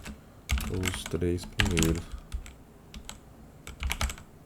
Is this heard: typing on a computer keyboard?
yes